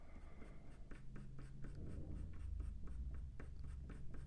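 Colored pencils scratch across paper in quick, regular back-and-forth strokes, a soft close rhythmic rasping that continues steadily, with no voices.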